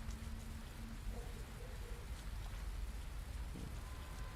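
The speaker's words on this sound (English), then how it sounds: "Yeah, the rain looks really cool." Steady rain pattering in the Fernbus Simulator bus-driving game, a continuous soft hiss of drops on surfaces with a faint low rumble, heard alone without voices.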